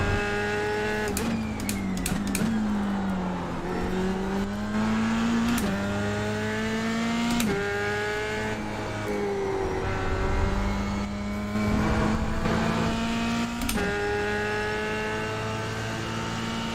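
Race car in a sim racing game rolling into the pit lane, engine tone droning and dipping as it downshifts and slows, with brief blips of revving and gear changes, steady and close with no talk.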